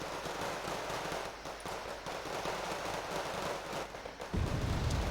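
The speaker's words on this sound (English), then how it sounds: "Be advised, big bomb coming in." In Wargame Red Dragon, a big bomb strike lands near the end as a sudden loud low boom, breaking a steady roar of battlefield noise and distant gunfire that runs the whole time.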